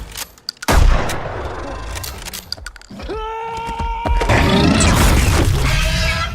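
A slug shotgun fires in a horror movie scene, with loud, sharp blasts and a heavy boom, followed by ringing, shattering tones and chaotic noise that stay loud to the end.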